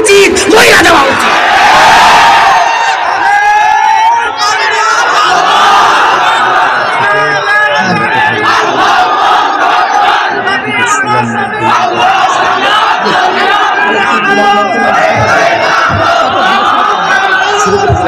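At a Islamic sermon gathering, a large crowd loudly chants the religious slogan 'Sabiluna al-jihad' in a sustained roar of massed voices, rising and falling in rhythmic bursts and very close and loud throughout.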